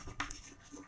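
Chalk or marker writing on a classroom board during a science lesson, a short scratchy stroke burst in a quiet room, close and faint.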